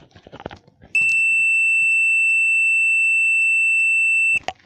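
A multimeter beeping on a continuity test of an intact wire: one steady, piercing high tone held for about three and a half seconds, close and loud, with faint handling noise before and after.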